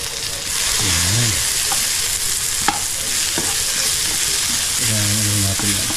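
Garlic frying golden brown in a pan for a simple home dish, a steady loud sizzle with stirring strokes throughout, and a couple of brief tonal whines breaking through the continuous hiss.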